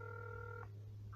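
Telephone dialing tones sound as a call is placed, with a steady dual tone held for over half a second and then a short second tone starting near the end, quiet over a low hum.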